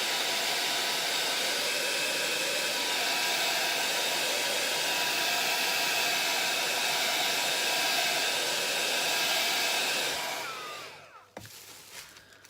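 Hair dryer blowing a loud steady whooshing hiss for about ten seconds before switching off, followed by a few faint handling knocks.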